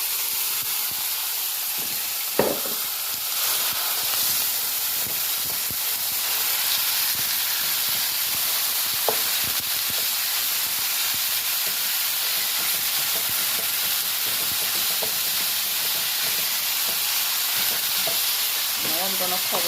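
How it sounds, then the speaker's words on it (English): Ground beef sizzles and fries in a hot, oiled pot. A steady, dense hiss carries on throughout, broken by a few faint clinks and stirring knocks. No voices are heard. "So now the pot is getting hot for me to put the beef in."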